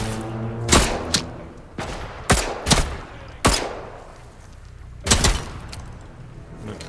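Gunfire in the video game Atomfall: several sharp, loud shots in irregular bursts, some doubled in quick succession, spread over a few seconds with a low hum beneath.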